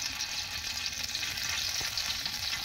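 Oil sizzling and frying steadily in a hot pan during outdoor family cooking with spices, a dense continuous hiss with occasional stirring scrapes, close and fairly loud, no talking.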